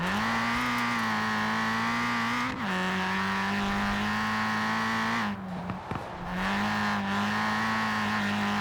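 A Ford Racing Puma engine drones steadily in Forza Horizon 4, holding a strong sustained note that dips briefly around mid-clip and again near the end before picking back up, with a faint tire scrub under the engine and no talking.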